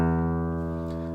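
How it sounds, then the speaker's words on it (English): Sustained note from a guitar's low E string plucked during tuning, a single steady tone ringing close and alone, slowly fading. "So now we're going to tune our bottom E string."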